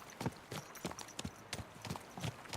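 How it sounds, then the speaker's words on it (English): Rhythmic clip-clop of horse hooves galloping on the ground in the video game Kingdom Come Deliverance II, steady repeated beats at moderate volume, close by, with no voices. "Let's really spur these horses on, eh?"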